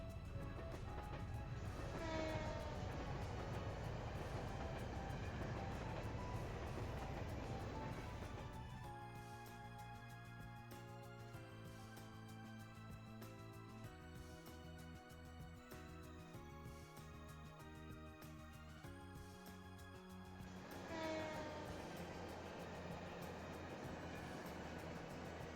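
Train ride scene from the video game Trails to Azure: a steady rumbling rail-car bed runs throughout, with a sustained tonal musical passage in the middle, continuous and moderately loud with no talking.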